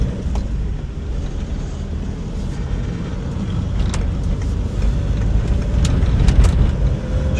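Steady car engine and road rumble from inside a moving car, a continuous low drone with a faint tick or two, close and even, no talking.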